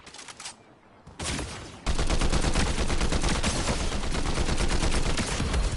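Rapid gunfire from a video game, starting as a couple of short bursts and then settling into a loud, continuous stream of shots that fills the rest of the stretch.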